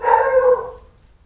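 A dog barks once in a single drawn-out, howling bark that trails away into quiet, fairly close and loud.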